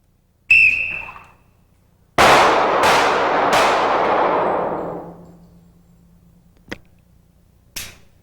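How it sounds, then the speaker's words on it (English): A handgun fires during a low-light shooting drill: two sharp reports about two seconds apart, the first short and the second opening a cluster of rapid cracks that ring out and decay slowly over several seconds, then two faint clicks. "I want you to do this after the next 6 shots"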